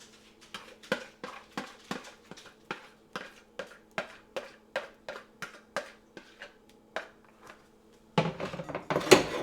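A fork scrapes and taps against a bowl as cooked oats are dumped in, giving a steady series of sharp clinks about twice a second, close and clear, then a louder rustling clatter at the end.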